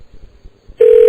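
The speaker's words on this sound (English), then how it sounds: "You got a phone call, Grady?" Near silence with faint low rumble gives way to a sudden loud electronic telephone ring in a radio studio, one strong sustained tone that cuts in abruptly near the end and stays steady.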